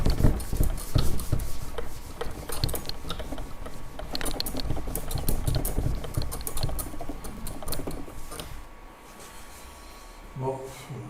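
Rapid, uneven clicks of keys on a computer keyboard, close and fairly loud, sometimes in quick bursts with short pauses, continuing throughout and thinning toward the end, while someone speaks French intermittently over them.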